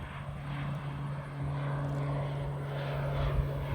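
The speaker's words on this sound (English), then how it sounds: "Okay, that's a turboprop." A Beechcraft King Air turboprop airplane takes off, giving a steady, droning engine roar with a strong low hum that holds through the whole stretch and swells slightly toward the end, heard from a distance outdoors.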